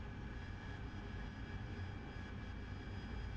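The jet engine of a Harrier in the DCS flight simulator gives a steady, dense roar that holds constant throughout with no talk.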